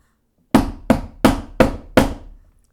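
A wooden hammer is struck five times in an even rhythm, each crisp knock close and loud with a short decay and nothing else around it.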